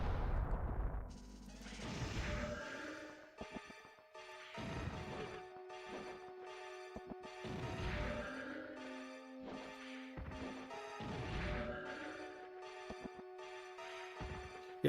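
Repeated bomb blasts from the PS1 action game Alundra, heavy crashing booms recurring every couple of seconds over a looping game soundtrack, loud and close with no voices.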